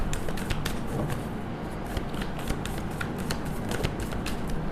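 Tarot cards are shuffled and drawn by hand, giving a continuous close papery riffle with rapid flicks over a steady hiss.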